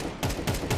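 Desert Eagle pistol in the Counter-Strike game, a few sharp cracking shots in quick succession, loud and close, with no talk.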